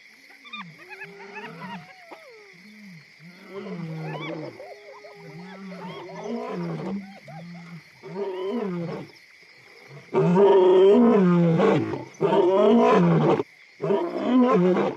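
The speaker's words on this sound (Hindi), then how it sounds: "नर शेर रात में ज्यादा जोश से दहाड़ते हैं और उनकी दहाड़ लुआंगवा घाटी में 8 किलोमीटर तक गूंजती है।" Male lions roar at night in the Luangwa valley: deep grunting roars repeat in rhythmic series, building to loud, full roars toward the end over a steady whine of night insects.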